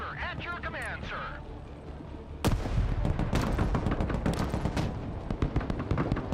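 Mortar fire in the video game Broken Arrow, a sudden loud burst followed by rapid, dense firing and rumbling blasts. A voice is heard just before the firing begins.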